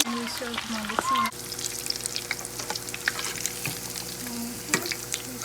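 Cheese frying in a pan, a continuous crackling sizzle with occasional sharper pops, close and loud, with short tonal clanks at the start.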